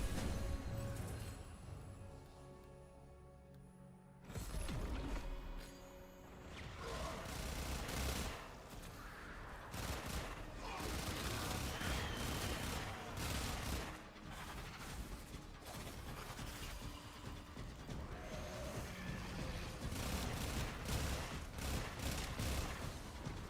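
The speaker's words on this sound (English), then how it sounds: "Guns go brrr." Sustained automatic gunfire in Warframe, dense rapid bursts almost without pause after a brief quieter opening, loud and close, with a few heavier booms mixed in.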